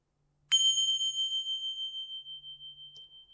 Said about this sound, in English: If you'd like to ring these 2 bells